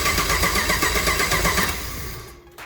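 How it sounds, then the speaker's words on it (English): A Minimog car build's engine cranking on the starter button, with its headers unplugged, a loud rhythmic whirring churn of the starter that winds down and stops after about two seconds without the engine catching. "This is the starter button."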